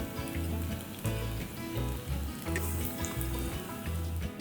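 Tofu frying in hot oil gives a dense, continuous crackling sizzle with a choppy low rumble underneath, close and steady throughout.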